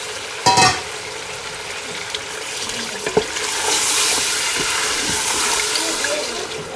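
One kilogram of chicken drops into a hot pot with garlic, onion and cumin seeds, a sharp splash followed by a steady loud sizzle and crackle that builds and continues.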